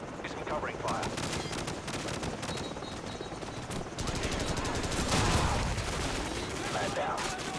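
Bursts of automatic gunfire and scattered shots crackle continuously during covering fire in the Call of Duty 4 campaign, dense and rapid, with distant battle noise and a voice speaking over it.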